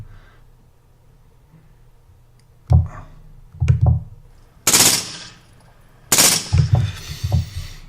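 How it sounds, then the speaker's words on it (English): Played-back recording of suppressed burst gunfire from the Las Vegas mass shooting at Mandalay Bay: several rapid clusters of muffled shots sound in quick bursts over a low background hum, with two louder, harsher bursts among them. "that's suppressed fire, burst fire from a totally different location"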